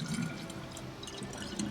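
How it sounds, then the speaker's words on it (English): Water from a well filling a plastic water bottle in DayZ, a short close burble and dripping splash with no talk. "Fill the water bottle, right?"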